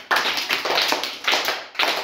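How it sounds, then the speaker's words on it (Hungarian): Children clapping hands in a primary school classroom, a few short sharp bursts of claps in quick rhythm with brief pauses between groups, close and clear with no talking. "Hányat kellett tapsolni, Zolika?"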